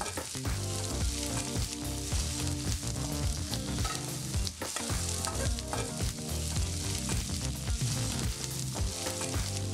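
Onions sizzle and crackle steadily in hot oil with whole spices for chicken curry, a dense continuous frying sound with occasional stirring clatter, no talking.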